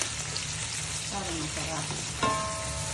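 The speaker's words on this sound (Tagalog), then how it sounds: "Ang ating mushroom. Lagyan natin sa butter." Mushrooms sizzle and fry in butter in a pan with a steady, close crackle, while a voice speaks briefly over the cooking.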